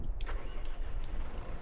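A tractor engine cranks and catches in Farming Simulator 22, a brief starter burst followed by a steady, close mid-pitched idle running alone.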